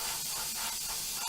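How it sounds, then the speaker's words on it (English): Steady broadband spray hissing from Phil's spraying in a live-show workshop, continuous and fairly loud for the whole stretch with no break, ending in a sharp click. "we can't hear you because of Phil spraying"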